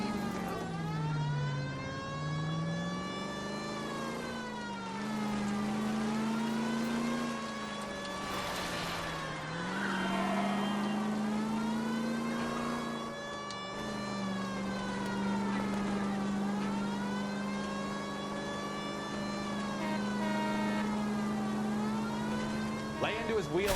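Car engine revving and straining through a high-speed chase in the video game L.A. Noire, a steady rising and falling whine that runs throughout, loud and continuous, with a siren-like wail riding over it.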